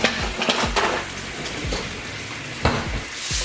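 Uncured bacon jam butter being stirred in a bowl, with a few sharp scraping and clinking strokes of a utensil against the sides over a soft sizzling background, no talk.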